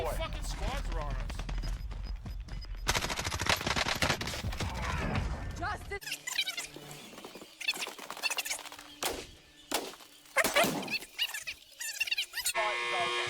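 Rapid bursts of Finn LMG gunfire in a video game, loud stuttering volleys mixed with other shots and game sounds, broken by brief gaps.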